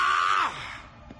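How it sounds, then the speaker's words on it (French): A cartoon character lets out a loud, strained scream in an animated action series, a sustained high cry lasting about half a second before breaking off into a quieter, groaning tail. "J'ai entendu crier."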